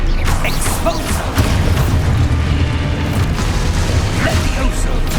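Expulso blasting spell from Hogwarts Legacy going off amid a dense battle din, with heavy booming rumble and scattered crackling bursts holding steady and loud for several seconds.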